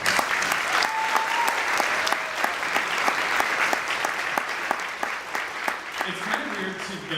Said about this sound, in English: So I'd like to give them a round.